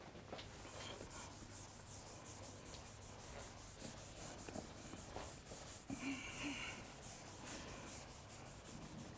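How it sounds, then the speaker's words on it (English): Rapid rhythmic rubbing of an eraser across a board covered in writing, a brisk scrubbing stroke repeated steadily and close, with no voices. "Now I can erase all this."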